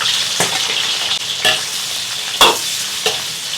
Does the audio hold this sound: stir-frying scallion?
yes